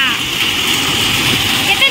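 Heavy rain pouring down in a steady, loud hiss, continuous and close throughout the short stretch.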